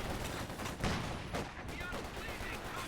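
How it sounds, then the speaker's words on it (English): Anti-tank gun firing at sandbags in the World War II strategy game Company of Heroes 2, with sharp reports and distant battle rumble over constant noise, under dense game effects. "AT gun trying to hit those sandbags"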